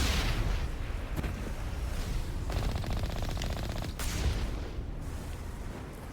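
Gunfire from a weapon in the Mass Effect video game, a few sharp reports and a brief buzzing rapid burst over a rumbling background, moderately loud.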